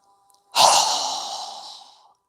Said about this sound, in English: inhaling through our nose, exhaling with a strong breath through our mouth